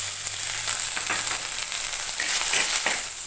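Tomatoes, onions and dried red chillies sauté in a hot pan, giving a steady, close sizzle with bright crackling and occasional stirring scrapes, loud and continuous with no talking.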